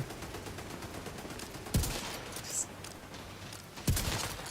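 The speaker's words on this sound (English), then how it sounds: "Turret fight!" Automated turrets trading fire in the shooter game The Division, two sharp bursts of gunfire cutting through a steady wash of background battle noise.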